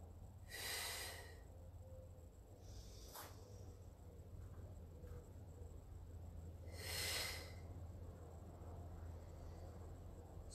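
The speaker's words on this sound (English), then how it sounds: "Inhale down. Exhale to lift." Two forceful exhaled breaths, one near the start and one about six seconds later, during a Pilates exercise. They sound like airy, hissing bursts over a steady low hum in a quiet room.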